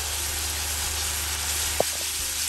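Spices frying in a pan for a potol dolma gravy give off a steady, even sizzle with a soft hiss, broken once by a single faint click.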